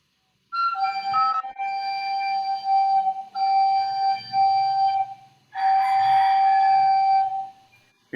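A child's recorder held on F sharp in a first-grade class, a steady breathy whistle-like tone in several sustained blows separated by short gaps, with faint room noise beneath.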